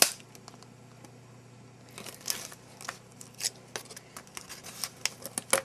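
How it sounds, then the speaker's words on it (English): Scissors snip and crunch through a thick plastic battery pack package, with sharp irregular cuts and crinkling growing more frequent and louder toward the end over a low steady hum. "How do they expect you to cut through this?"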